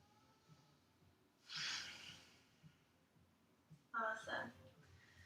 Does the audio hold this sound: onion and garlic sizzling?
no